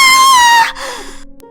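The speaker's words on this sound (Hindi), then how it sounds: "जैसे ही वो उस क्लास का दरवाजा खोलते हैं तो उनकी चीख निकल जाती है" A shrill, drawn-out scream in a horror story, loud and close, holding a high pitch before sliding down and trailing off into a breathy fade.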